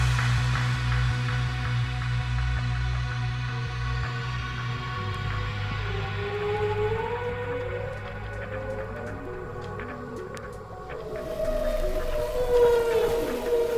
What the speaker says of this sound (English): went on a mission to record singing whales